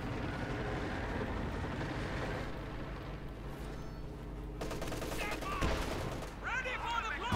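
Heavy MG34 machine gun fire crackles in a battle, bursts of shots mixed with rumbling background noise, growing sharper and more rapid near the end.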